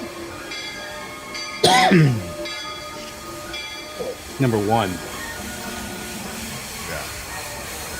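A Disney park railroad train rumbling along steadily, joined by two louder bursts of whistle or steam hiss, while people talk nearby.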